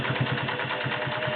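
A vintage Singer Slant-O-Matic 403A sewing machine runs alone at close range, its motor humming steadily with a soft rhythmic pulsing beat from the needle mechanism.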